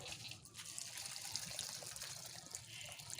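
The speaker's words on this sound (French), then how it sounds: "on apporte de l'eau." Water poured onto compost, a steady soft splashing trickle with a gushing texture, faint and continuous without pauses.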